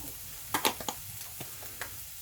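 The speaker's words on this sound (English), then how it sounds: "Okay, so I'm going to put the rest of the chili peppers, garlic salt, not much left in it, in the pan" Chili peppers and garlic drop into a hot frying pan with a soft background sizzle and a few sharp crackles and clicks, clustered early and then sparser.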